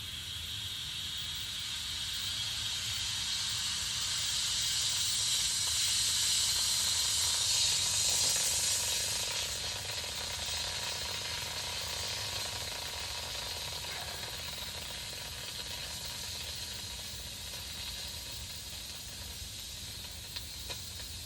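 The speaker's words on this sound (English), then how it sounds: "now holding up on the lid, we will pressurize it with the CO2" CO2 gas hisses steadily and loudly into a lidded container as it is pressurized, a broad continuous rush that swells, then eases slightly and carries on for about twenty seconds.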